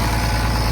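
An IH 1066 tractor engine idles steadily, a low, even diesel rumble with a constant mechanical vibration throughout the brief moment, close and fairly loud, with no voices.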